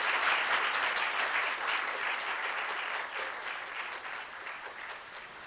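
Audience at Cornell applauding to welcome a speaker back to the podium, dense steady clapping from a crowd, fading slightly toward the end.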